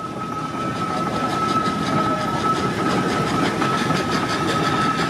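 A Lincolnshire-registered 1920s BB steam ploughing engine passing at the Sheffield steam rally: a steady, loud mechanical chugging and rumble with a sustained whistle-like tone, continuous and close, no talk.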